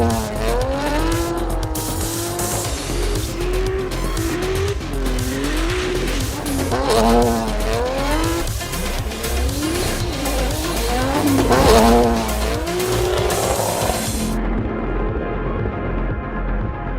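Infiniti Q60 Red Sport 400 with a 3-liter twin-turbo V6 racing in Need for Speed No Limits, engine pitch rising and falling through gear shifts with tire squeal and skids, loud and continuous before the sound thins near the end.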